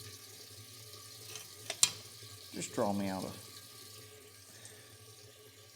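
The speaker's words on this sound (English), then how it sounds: "got this thing filling up with water" Tap water runs into a container in a workshop while a small wheel loader is being repaired, a steady hiss under brief speech with a louder splashing surge partway through.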